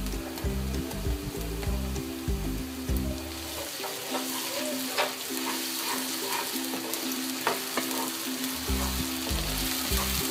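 Onions with ginger garlic paste fry in hot oil, a steady close sizzle with stirring and scraping, and a low rhythmic music bed playing underneath at times.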